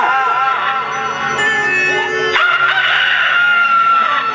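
A human voice mimics a rooster's crow, a loud, close, drawn-out cock-a-doodle-doo with rising and falling pitch, followed by a second sustained crowing call.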